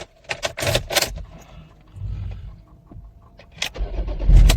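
Ford Everest Gen 4 starting after a battery replacement: keys jangle and a few clicks, then the engine cranks and catches into a low rumbling idle, close and loud.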